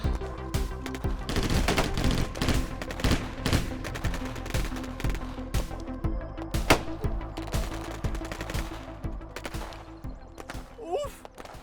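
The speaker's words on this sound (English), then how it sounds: "We're under heavy fire!" Heavy gunfire rattles through a war comedy scene, with dense bursts of machine-gun fire and scattered single shots that keep going for several seconds, while voices shout over the shooting.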